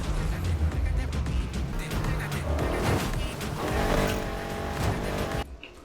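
A race car roars through a race in a Need for Speed video game driven with a controller, its engine droning loud and steady, with tire screeches and skidding over a dense, continuous wash of game audio.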